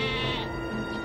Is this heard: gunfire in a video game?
no